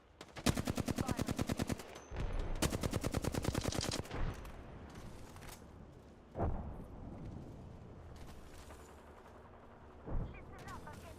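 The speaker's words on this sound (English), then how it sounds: "Listen up, I'm getting shot at." Rapid automatic gunfire from the video game Gundam Evolution: two loud, fast bursts of shots, then a few single distant bangs over a low battle rumble.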